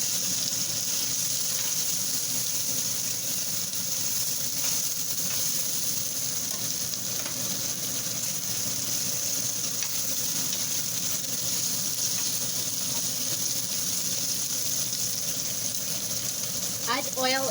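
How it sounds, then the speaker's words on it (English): Onion sizzles steadily in a cast iron pan with oil, a continuous loud frying hiss throughout with faint stirring. "So you can see our onion is going to be cooked now."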